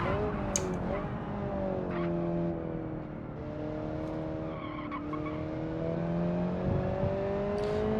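A car driving on a track in the video game Automation, its engine revving up and down through gear changes with tyres squealing through corners, steady and moderately loud throughout.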